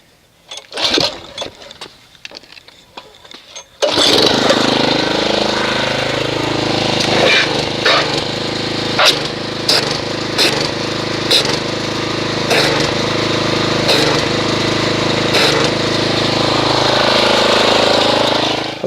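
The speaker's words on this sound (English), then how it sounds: "Let me go ahead and agitate this with a pressure washer." A pressure washer sprays onto a car coated in thick foam from Griot's super concentrated car wash soap, starting abruptly after a few seconds of quieter handling noise, then a loud, steady motor drone with brief hiss bursts that runs continuously to the end.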